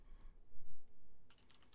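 Someone types quickly on a computer keyboard, a brief burst of rapid clicking keystrokes near the end after a short stretch of muffled noise.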